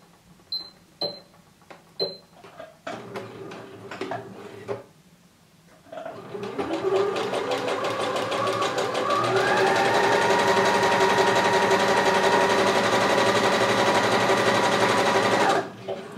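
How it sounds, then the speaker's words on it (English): An overlock serger stitches fabric with elastic along both sides of a bikini strap: a few clicks and short bursts first, then a long, loud, steady high-speed whir that stops abruptly near the end. "we would sew on our overlock both of the sides with elastic"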